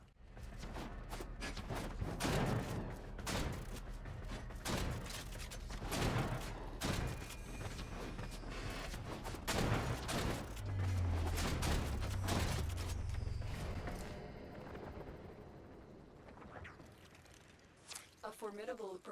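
Rapid gunfire from the video game Warframe during a Mastery Rank target-shooting course, bursts of shots repeating steadily over busy game effects and a low engine-like drone, with a voice speaking over it.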